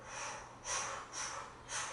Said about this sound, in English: Inhale fully. Vacuum in a full breath and hold that oxygen.